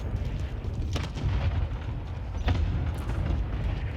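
Precision airstrike blasts in Call of Duty Warzone, a dense rumbling barrage with two sharper booms standing out amid a continuous low roar, no talk.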